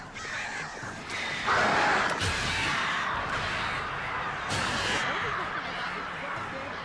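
Crows cawing in the horror video game Alan Wake, harsh repeated calls over a constant noisy game background, with a voice talking over them.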